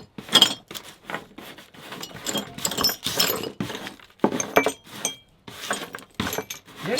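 Broken glass pieces clink and jangle as they are handled after a cabin break-in, a run of close, bright rattles and chinks in irregular bursts with short pauses between.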